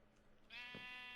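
Single sheep bleat from the Minecraft video game, a short, thin, buzzy cry rising out of a quiet background after a faint murmur.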